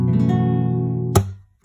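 An acoustic guitar note picked with a string fretted at the second fret rings out as a rich sustained tone, then a sharp pick or string noise cuts it off and it fades to near silence.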